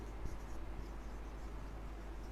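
A pen scratches across paper in a quiet room, a faint, continuous scribbling under a low steady hum.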